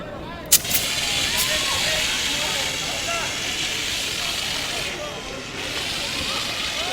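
A fire extinguisher sprays at the base of a fire during a fire drill, a steady loud rushing hiss that runs without a break after a brief sharp burst at the start.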